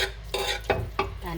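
Cooked corned beef, about 2 pounds simmered in a stock pot with its seasoning pack, being pulled apart with metal utensils: several scraping clinks and stirring clatters against the pot, close and fairly loud, with no talking.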